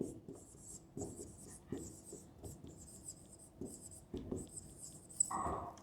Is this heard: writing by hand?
yes